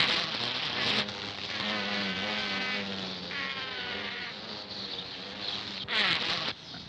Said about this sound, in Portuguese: tentando fazer o melhoramento de uma abelha chamada tiúba ou uruçu, que cientificamente é chamada Melipona comprespis